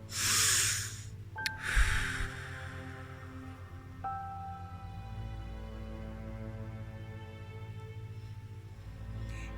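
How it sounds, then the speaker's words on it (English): Two sharp, quick sniffing inhales through the nose come first, followed by a long, slow, quiet breath out through the mouth over a soft steady background hum. "2 quick inhales through the nose and a slow, long exhale through the mouth."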